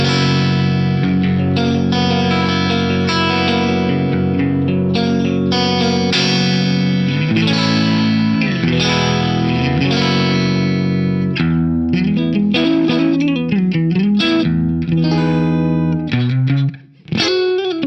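A clean electric guitar runs through an Arion SCH-1 chorus pedal in stereo mode with the controls set at the middle, sustained chords shimmering and swirling loudly and continuously, ending in a short dropout.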